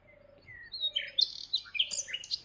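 A parrot lets out bright chirps and tweets, a string of short whistled calls rising and falling over a couple of seconds against a quiet background.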